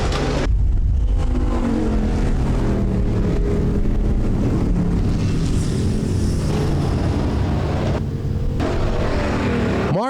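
A sprint car at a weekly dirt track racing series, coming off turn 4 to finish a heat race: loud, sustained engine roar close by, steady and unbroken, with no voices above it.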